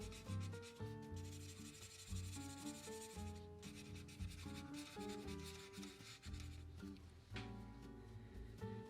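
A marker fills in the eyes of a drawing on paper in black, giving soft, steady rubbing strokes that come close and quiet, in short repeated passes with no talking.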